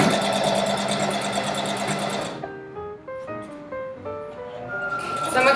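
A sewing machine runs steadily, stitching an infinity scarf, loud and close for about two seconds before stopping; then a soft melodic tune plays, with the machine whirring again at the end.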